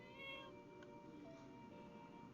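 A cat meows in the video game My Time at Portia, a drawn-out tonal cry near the start that fades into a quieter, lingering whine over a low background hum.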